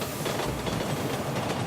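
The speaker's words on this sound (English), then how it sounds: "The J and Z subway trains rumbled through the borough every day" J and Z subway trains rumbling through Brooklyn near Marcy Projects, a steady dense rolling roar with faint rhythmic clatter, continuous and fairly close with no talking.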